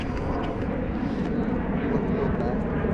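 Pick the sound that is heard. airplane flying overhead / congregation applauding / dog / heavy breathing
airplane flying overhead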